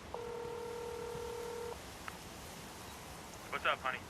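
A telephone being dialed in a film scene: a long steady tone, then a short beep, over a faint background hum, followed by a few brief bursts of voice.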